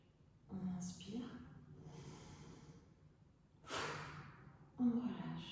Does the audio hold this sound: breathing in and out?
yes